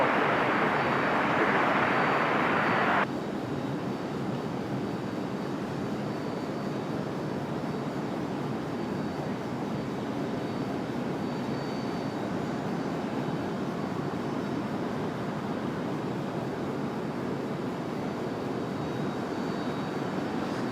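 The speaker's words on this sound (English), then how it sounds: "So we got Delta headed out to the end of the runway" A Delta airliner taxis toward the runway at Raleigh-Durham airport, its steady engine roar at middle distance holding throughout. A brief brighter wind-like hiss opens the first few seconds.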